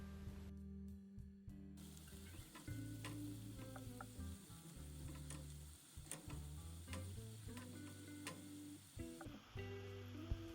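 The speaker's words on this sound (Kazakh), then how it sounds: "Оны да майдың түсі өзгергенше қуырып аламын." Grated carrot fries in oil as the base for a pea soup with smoked meat, giving a steady sizzle throughout with faint stirring ticks, under a background of tonal music.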